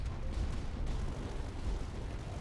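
An ion cannon firing in the strategy game Tower Dominion, a dense rumbling series of booming blasts rolling continuously with heavy low-end weight, and no talking.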